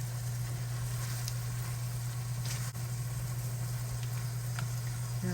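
Meats and vegetables for Thanksgiving stuffing sautéing in a pan, a steady close sizzle with a constant low hum underneath and faint clinks.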